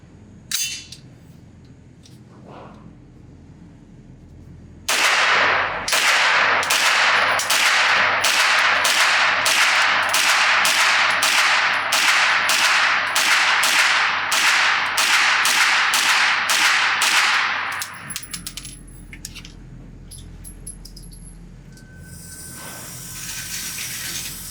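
A JP Enterprises GMR-15 rifle emptying one magazine at a 10-yard range, about twenty loud, sharp shots in a quick, even rhythm lasting around thirteen seconds, set off by quieter handling noises before and after.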